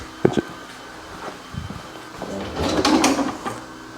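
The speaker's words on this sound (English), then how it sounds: "And all the drawers and cupboards that we got." Kitchen drawers and cupboards being opened while someone rummages for a tool, with a couple of sharp clunks followed by sliding, rattling rumbles at close range.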